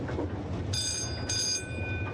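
A heritage train on Alderney pulling 1950s London Underground carriages rumbles along steadily, with two bright, high wheel squeals ringing out over the rolling clatter.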